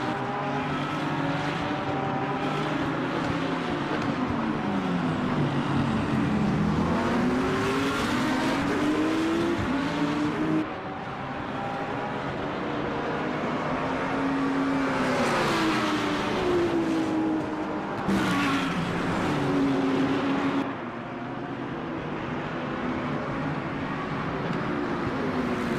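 A Lamborghini sports car races past, its engine revving hard and rising and falling in pitch through gear changes and passes, loud and sustained with a few sharp drops between bursts.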